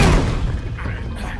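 A single gunshot in the video game The Wolf Among Us: one loud, close boom at the start, then a decaying rumble and faint background noise.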